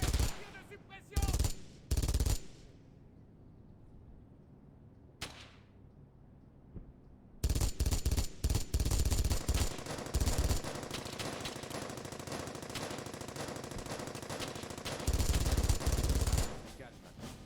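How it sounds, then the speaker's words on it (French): Suppressing machine-gun fire in the World War II shooter Brothers in Arms: Hell's Highway comes in a few short loud bursts, then a long sustained stream of rapid automatic shots with heavier booms mixed in. "Ok, tir de suppression."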